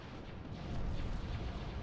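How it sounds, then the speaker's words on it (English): Dense, rumbling barrage of laser fire from a space battle in the strategy game Thrawn's Revenge, a continuous wash of booming bursts and blasts that stays loud and steady throughout, with no voices. "Intensify laser fire."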